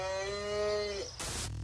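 A single cow lets out one long, loud, tonal moo that falls away near the end, followed by a short burst of noise.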